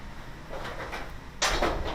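A whirlpool gas dryer's clip snaps into the dryer door with a sharp plastic click near the end, after softer handling bumps.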